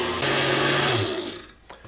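A kitchen blender runs briefly to beat an egg into a boozy banana shake, with a loud steady whir that winds down and stops.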